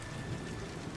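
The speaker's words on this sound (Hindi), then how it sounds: "तभी बहुत जोरों से बारिश शुरू हो जाती है" Heavy rain pours down with a thunder rumble in a Hindi cartoon scene, a dense, steady wash of rainfall falling on a mud house with a leaking roof, continuous and loud with no voices.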